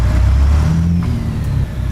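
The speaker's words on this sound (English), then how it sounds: "Over revved it there." Truck engine revving hard and loud up close, a steady high-load drone with rising and falling engine tones sustained through the whole two seconds.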